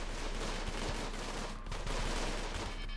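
Gunfire in the video game Rimworld as colony turrets and raiders trade shots, a dense continuous crackle of rapid bursts with a steady low rumble, no voices.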